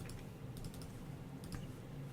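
Rapid computer mouse clicks and keystrokes while filling in a form at a desk, a quiet scattered run of light taps in small clusters, close and alone with no talk.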